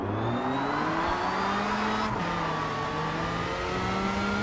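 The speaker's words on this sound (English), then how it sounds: "Front wheel drive Audi." A front-wheel-drive Audi race car in the Rennsport racing game, its engine revving in a strong, continuous drone with rising pitch through the gears and a brief dip at a shift.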